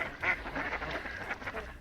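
A mallard hybrid duck quacks, several nasal calls in quick succession at moderate distance over a faint outdoor background.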